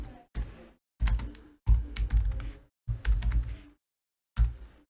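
Java code being typed on a computer keyboard, close bursts of rapid clicking keystrokes broken by short silent pauses, loud and alone.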